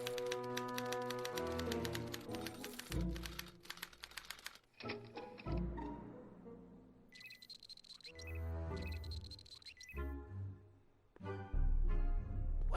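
Mechanical clacks and whirring bursts from a typewriter device in the Back to the Future video game, mixed with electronic tones and bleeps, fairly faint overall.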